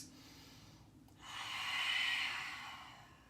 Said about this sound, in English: Take 2 more deep breaths.